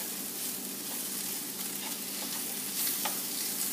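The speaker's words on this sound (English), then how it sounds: "Mix the kale through." Kale for a vegetarian pizza topping stirred in a hot pan, a steady faint sizzle with soft scraping and a few light clicks of the utensil, close by and unbroken by voices.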